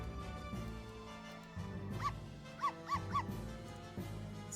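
Constantine, a dog in the video game Professor Layton vs Phoenix Wright, gives three short, light yips in quick succession over a steady background music bed.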